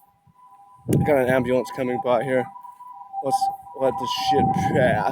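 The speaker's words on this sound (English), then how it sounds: "That ambulance is kind of distracting." An ambulance siren passes nearby as a steady wailing tone running beneath and between a man's loud, close talk.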